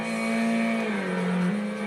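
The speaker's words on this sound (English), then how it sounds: "you're using a different car, this time the Nissan Silvia." Nissan Silvia engine in Gran Turismo 2, a steady mid-pitched drone with a strong low harmonic that dips slightly in pitch partway through and then holds, loud and continuous with no talking.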